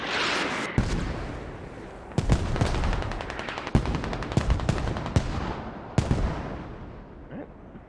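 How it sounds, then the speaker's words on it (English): A rocket barrage in the military shooter Squad pounds in with a string of sharp, heavy impacts and blasts at irregular intervals, close and loud, over a rumbling, crackling wash of combat noise. "Rocket barrage coming in on Uber."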